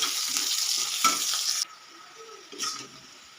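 Onion and potatoes frying in hot oil with spices, a bright, close hiss and crackle that suddenly drops to a quieter simmer, with a short burst of sizzling returning near the end.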